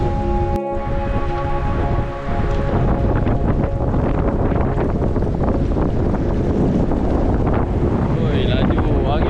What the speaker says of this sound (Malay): Oi, laju. Angin kuatnya.